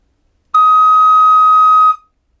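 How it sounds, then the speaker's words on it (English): A single sustained high D sharp on a recorder, clear and steady for about a second and a half before cutting off, played alone. "And the high D sharp sounds like this."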